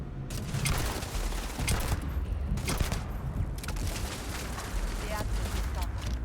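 Continuous gunfire from a turret in Starfield, dense bursts of shots crackling over a steady loud backdrop of game noise and mechanical sounds, with talk mixed in.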